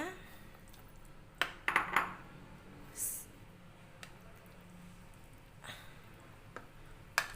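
Siomay ingredients are stirred together in a large bowl, with soft, sparse clinks and taps of a utensil against the bowl over a quiet background and a few scattered louder knocks.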